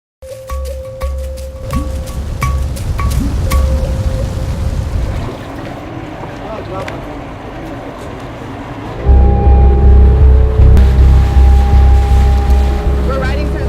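A motorboat runs along the creeks of Nigeria's Niger Delta with a steady, loud engine drone and water rush, and the engine note rises and grows louder partway through. A voice talks over the ride.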